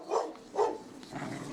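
A guide dog at a training school for guide dogs in Lyon gives two soft barks a beat apart, then a longer muffled yelp, heard at a moderate distance.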